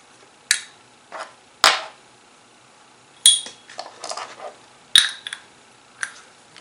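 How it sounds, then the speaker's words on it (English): Small metal carburetor parts dropped one at a time into a bowl, giving a string of sharp, close clinks and rattles with short quiet gaps between them. "we will set parts in"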